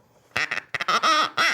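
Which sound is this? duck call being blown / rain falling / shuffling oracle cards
duck call being blown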